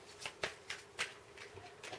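A LisaParker tarot deck is shuffled by hand in quick, rhythmic bursts of papery riffling and soft snapping pops, close and quiet, with no talking.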